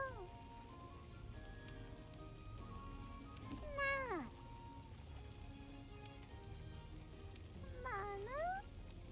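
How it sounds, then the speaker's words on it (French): Recorded cat meows in Monster Hunter World: Iceborne, two drawn-out falling meows spaced apart over a soft ambient game backdrop, with faint talk underneath. "comment utiliser littéralement des enregistrements de chats"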